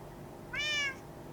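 A cat in the Minecraft video game gives one short, clear meow that stands out over a faint, low background hum. No one speaks.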